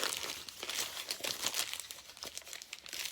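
Paper sheets being crumpled and rolled by hand to shape the body of an alebrije, a continuous close crinkling and rustling with repeated sharp crackles and no talking.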